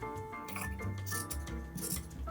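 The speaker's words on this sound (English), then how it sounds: "I'm going to cut this selvage edge off as well because we don't need it" Scissors cutting the selvage edge off quilting fabric: close, crisp snipping and slicing strokes in a quick uneven rhythm, with no one talking.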